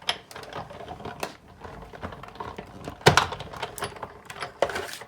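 Card stock cranked through a manual die-cutting machine with embossing plates, giving a run of clicking, rattling mechanical sounds and two sharper clunks near the end, close and fairly quiet, with no talk.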